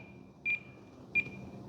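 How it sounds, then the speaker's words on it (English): An alarm tone from a radio setup for an E-flite SR-71 Blackbird twin 40mm RC plane sounds as two short, clean electronic beeps about 0.7 seconds apart over a faint background hum. "That's a tone."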